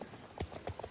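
Horse hooves clip-clop in Star Stable, a few quiet, evenly spaced hoofbeats in quick succession.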